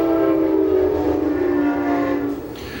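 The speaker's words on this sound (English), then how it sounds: "We've got a train." A train passes close by with its horn blaring in a long, loud, steady tone lasting nearly three seconds before it fades slightly, over a low rumble of the rails and no talking.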